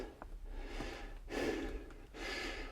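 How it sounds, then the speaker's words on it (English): Heavy, labored breaths come from a person crawling on their knees inside a low 4.5-foot mine adit, close and audible, with several loud gasping exhales in an uneven rhythm. "why are you breathing so heavy? Well, I'm on my knees."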